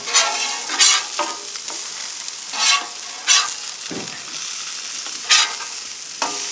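Sausage patties fry on a Blackstone griddle with a steady close sizzle, punctuated by several sharp scraping strokes of a metal spatula at irregular intervals.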